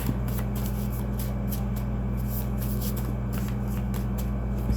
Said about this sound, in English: I'm gonna take half, shuffle them, and then go back to the other one.